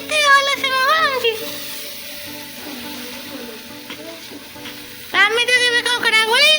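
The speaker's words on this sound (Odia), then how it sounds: "ତମେ ତ କେବେ କଙ୍କଡ଼ା ଗୋଳେଇ ନଥିବ, ଦେଖ ମୁଁ ଗୋଳାଉଛି ଦେଖ" Crab curry (Odia kankada tarkari) sizzles and fries in a pan as it is stirred, a steady close hiss with scraping, while a voice talks at the start and end.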